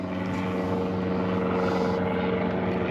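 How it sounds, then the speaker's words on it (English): An aeroplane flies over a small fishing boat on the Solent near Southampton, a steady loud droning roar that holds evenly from start to end with no break. "And there goes a bloody plane over it then."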